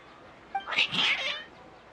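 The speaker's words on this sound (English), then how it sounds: "Your cats seem pretty worked up." Several cats meow and yowl in an agitated caterwaul in Genshin Impact, a short burst of overlapping cries rising and falling for about a second over a quiet background.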